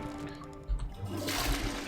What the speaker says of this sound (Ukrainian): Хоч воду позмиваємо